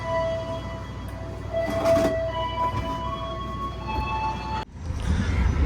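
An Indonesian passenger train pulls out of Pegadaian Baru station in Subang, heard from on board as a steady low rumble of wheels and car noise with faint whining tones and a sudden louder shift near the end.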